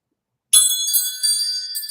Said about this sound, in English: get a little bit of wind chime time